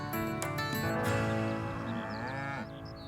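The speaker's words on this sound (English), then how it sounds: "And these cattle, these jet black cattle, tell me about them." Jet-black Aberdeen Angus cattle lowing on a farm, one long, close, resonant moo drawn out over a few seconds before tapering off.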